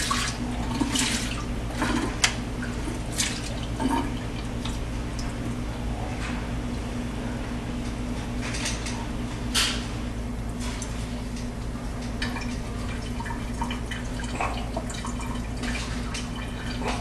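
Water runs steadily from a tap into a container holding a thawing turkey, a constant close rush with scattered drips and small splashes over the top.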